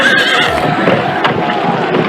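A horse whinnies near the start over a steady bed of hoof clatter and rushing noise, loud and continuous, like a galloping mount in a muddy medieval battle scene.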